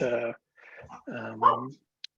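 A dog barks and whines nearby, two drawn-out vocal bursts separated by a short pause, followed by a brief click, in an otherwise quiet room.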